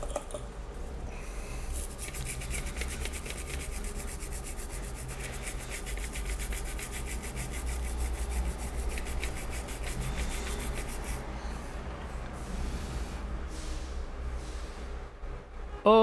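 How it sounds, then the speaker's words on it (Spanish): Steady rubbing and scrubbing as residual solder flux is cleaned off a MacBook Air motherboard after a short-circuit repair, a continuous close, dry brushing texture lasting throughout with no talking. "Sacamos el flux residual que quedó de la soldadura."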